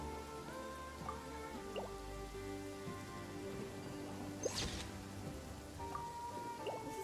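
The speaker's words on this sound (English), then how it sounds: "This is an absolutely beautiful storm." Steady rain falls in a Genshin Impact storm, a continuous wash of drips and patter on surfaces with a few sharper droplet splashes and tonal game music threading underneath, no voices.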